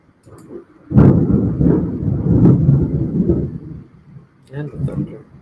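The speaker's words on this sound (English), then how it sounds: "And the thunder." Thunder rolling through a lightning storm, a loud crack breaking into a long low rumble that fades, then another, softer rumble, with a voice heard in the clip.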